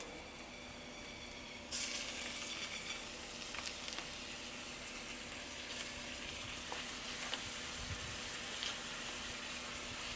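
Butter hits a hot pan of flour-dusted fish and bursts into a sudden loud sizzle a moment in, then settles into a continuous crackling fry with small pops.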